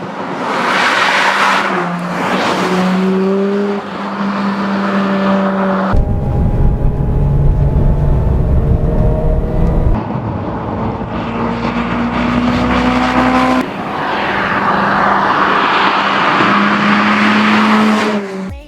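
A 2011 Mazda RX-8 Spirit R with a rotary engine drives in a Need for Speed game. The engine revs rise and drop through repeated gear changes, with loud, continuous, high-pitched whine and occasional tyre noise.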